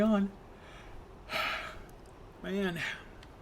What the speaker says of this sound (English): Another yawn.